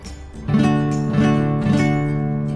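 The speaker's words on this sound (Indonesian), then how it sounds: "kalau di gitar bisa kita dengar sama-sama, do sama dengan D itu bunyinya seperti ini" A guitar sounds a single low D note, plucked a few times in a row and left to ring clearly, with no voices.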